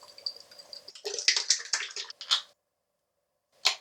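First Line Shave 80s Rewind Volume 1 aftershave splash, mixed with milky toner, is splashed and patted onto hands and face: a close, wet burst of patting and slapping, then a pause and one last wet slap.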